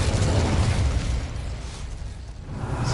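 An Incendio fire spell in a Hogwarts game bursts into a dense roaring whoosh of flame, loud and sustained, with a low rumble fading slightly before swelling again.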